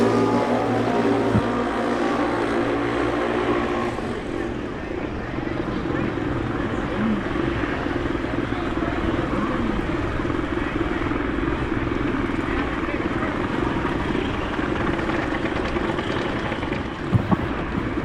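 Drag racing motorcycles at the Mancup World Finals roar steadily and loudly throughout, a sustained engine drone under a public-address announcer's voice, with a couple of sharp pops near the end.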